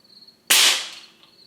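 A single sharp report from a 6.35 mm or 5.5 mm air rifle, close and loud, with a quick decaying tail and no talk, set against a faint steady high whine.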